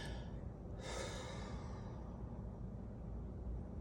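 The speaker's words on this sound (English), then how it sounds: "Take a deep breath with me." A deep breath drawn in close and let out in one long, soft sigh, alone with no talking.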